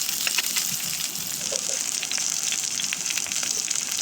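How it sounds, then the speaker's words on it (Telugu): Onion, green chillies, garlic and dals frying in a pan for Bombay chutney, a continuous close sizzle with crackling pops and occasional stirring, no talking. "బాగా ఫ్రై చేసుకోండి."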